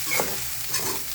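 Fried rice being stirred and mixed in a hot pan, with a spatula scraping twice in quick strokes over a soft, steady sizzle, close and clear.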